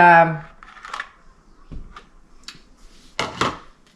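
A spoon works through a double batch of thick brownie batter in a bowl, making soft scraping and clattering knocks at uneven intervals after a brief voice at the start.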